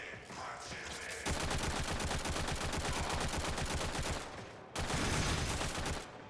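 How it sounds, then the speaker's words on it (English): Bratton assault rifle in Warframe firing rapid full-auto bursts, a loud continuous rattle for several seconds, a brief pause, then another sustained burst. "That gun sounds beautiful, man. I love the Bratton and the Bratton Prime. Sounds like a legit assault rifle to me."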